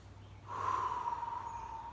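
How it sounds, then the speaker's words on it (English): A single deep, slow breath drawn close to the microphone, a soft airy rush that swells and fades, with no talking. "if we go back to just taking a deep breath"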